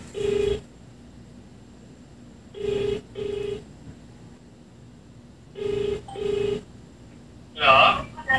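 A telephone call rings out with paired electronic ringing tones, repeated at steady intervals over a quiet line, followed by a brighter, higher chime near the end.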